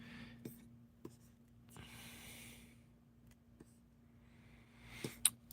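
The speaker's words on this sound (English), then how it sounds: "I'm gonna draw more brown marks" A pen drawing marks on paper, with soft scratchy strokes in short bursts and faint taps between them, quiet and close with no talk over it.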